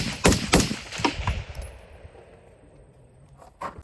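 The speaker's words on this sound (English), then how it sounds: "And then we'll do just a little rapid fire here at 100." Rapid fire from a gas-powered Sandman paintball marker, a quick string of about four sharp loud pops close by, each ringing off briefly, followed by a quieter tail and one more shot at the end.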